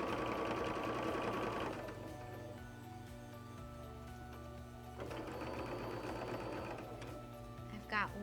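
Sewing machine chain piecing quilt strips runs in a steady, close whirring stitch, pausing briefly partway before starting again, with a faint tap near the end.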